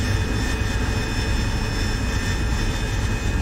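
A Spitfire's piston engine in the DCS flight simulator drones as a steady, dense, loud roar with no breaks, filling the whole moment with a constant low rumble and a few faint high tones above it.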